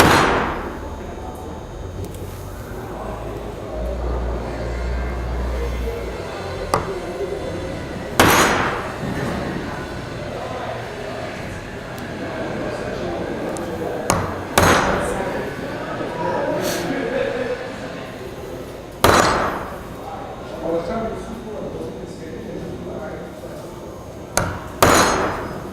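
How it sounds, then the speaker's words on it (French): Wood chisel struck with a mallet to mark the outline of a door hinge on an interior door frame: sharp, loud single knocks spaced several seconds apart, with a person talking between strikes. "Avec le ciseau à bois, on peut marquer le périmètre de l'endroit où notre charnière va être installée"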